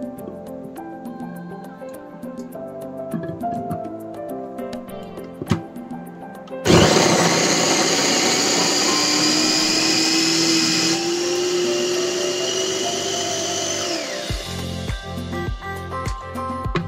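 Kitchen blender grinding cassava: after a stretch of quiet background with faint music, the motor starts abruptly with a loud steady whirring roar that shifts slightly in pitch, lasts several seconds and then winds down and stops.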